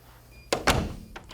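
A door swings shut and a magnetic lock engages, a sharp knock followed by a heavier thud close by, then a faint click.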